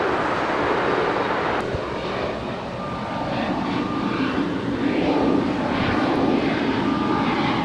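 A Spirit Airlines Airbus A320-200neo departs LAX with a loud, sustained jet engine roar, steady and broadband, swelling slightly midway as the aircraft climbs away.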